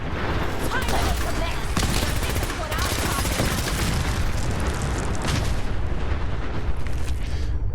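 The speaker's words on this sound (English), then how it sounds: "Did that vertibird explode?" A vertibird exploding amid a raider firefight in the video game Fallout 4, a dense, continuous barrage of booms and rapid gunfire that stays loud and unbroken throughout.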